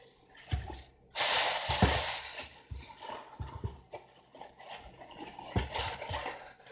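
Dog shampoo slime is stirred in a container, producing wet, sloshing squelches and scraping clicks of a utensil that come in irregular bursts, fairly close and moderately loud, with no talking.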